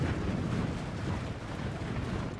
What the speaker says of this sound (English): you've got a Dragon's Breath cannon firing at you